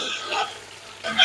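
Chickpeas and nuts frying in a pan with browned onions, a soft crackling sizzle with brief stirring scrapes, close and quiet.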